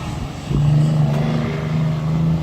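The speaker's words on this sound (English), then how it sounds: "a big old truck coming by" A big truck rolling past at a home aquaponics setup, a steady low engine drone that swells after a brief quieter start and holds through the rest, fairly loud and near, with no talk.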